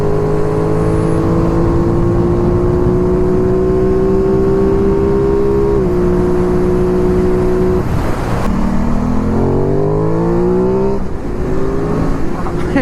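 An Aprilia Tuono 660 motorcycle revs hard and close, its engine note climbing steadily, dropping at a gear change, then surging again in rising sweeps, loud and continuous with wind noise behind.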